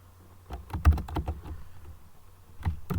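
Computer keyboard keys pressed in quick irregular clusters of clicks and taps, close and fairly loud, with no talk over them.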